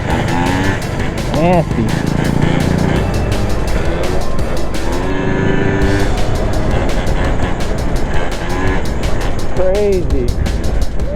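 Scooters race through abandoned places with engines buzzing and whining loudly throughout, pitch rising and falling as they accelerate, with gusty wind and people shouting and talking over the noise.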